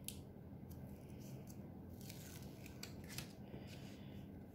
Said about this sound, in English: So all we got to do is take this backing off